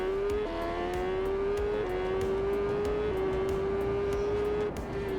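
A supersport motorbike in the racing game TT Isle of Man 3 holds a loud, steady high-pitched engine whine at top speed in top gear, the pitch stepping slightly through the run, with no talking.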